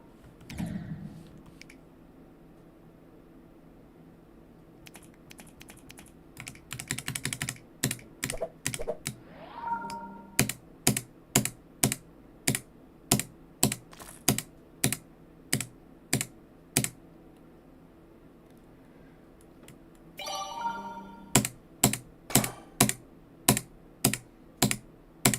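A computer keyboard typed on while playing a game, with irregular clicks in the first seconds, then a quicker run of key presses, and finally steady evenly spaced sharp taps, close and clear with no talking.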